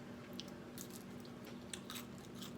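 Crunch of biting into a homemade keto cheese cracker with sour cream dip, a few short crisp crackles and chewing sounds close to the mic, no talking.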